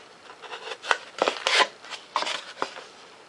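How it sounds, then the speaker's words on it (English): X-Acto knife trimming foam for an electric ducted fan thrust tube, a series of short scratchy cuts and rasping strokes in uneven bursts, close and fairly quiet. "Come in here with an X-Acto knife. Take and trim this piece out."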